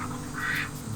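Stumper the duck lets out a short, nasal quack, close by and fairly clear over a low background hum.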